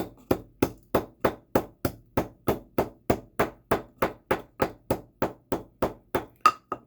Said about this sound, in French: Vous allez mettre dans votre mortier là, vous allez la écraser comme ça bien.